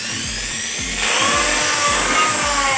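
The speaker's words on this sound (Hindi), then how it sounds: "यहाँ पे मेरे पास है GWS-600 एंगल ग्राइंडर जो बोस का है और यहाँ पे मशीन चला लेते हैं" A Bosch GWS 600 angle grinder with a faulty, sparking armature runs loud and close, its high motor whine swelling after a second over a rhythmic, pulsing low throb.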